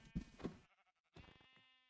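Sheep bleat in the video game Minecraft, two short nasal bleats close together followed after a brief pause by a longer wavering one, fairly quiet and with no talk over them.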